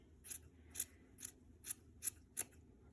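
Sharp scissors snip through a yarn pom-pom in six evenly spaced, crisp cuts, close and clear over a quiet background.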